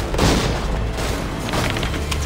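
Musket gunfire in Assassin's Creed 3 Remastered during a Revolutionary War battle, a dense loud barrage of booming shots rolling together with battle noise and no clear voices.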